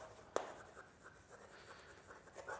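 Writing on a board during a physics lecture on electric dipoles produces soft scratching strokes and light taps, one sharper knock near the start, faint and close with no talking.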